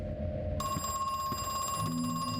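An electronic phone rings in the video game Crow Country, a steady high tone coming in over a low droning ambient game backdrop, clear and sustained with no talk.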